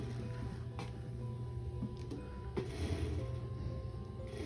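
A sewing machine stitches pieces of a blanket coat together, a quiet, steady mechanical whirr with faint rhythmic ticking and clicks, no voices.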